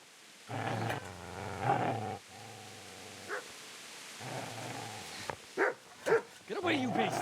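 A dog in the medieval video game Kingdom Come: Deliverance growls and barks in rough, rumbling bursts close to the listener, mixed with short sharp yelps near the end and someone shouting over it.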